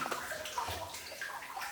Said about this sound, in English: The amount of water coming through here is crazy.